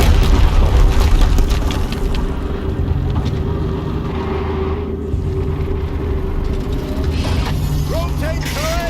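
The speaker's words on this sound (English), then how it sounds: "Another explosion." Loud, dense explosions and mechanical rumbling in the video game Horizon Zero Dawn, with heavy booms, grinding machinery and clanks filling the whole clip.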